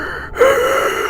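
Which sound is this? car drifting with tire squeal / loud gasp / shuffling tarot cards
loud gasp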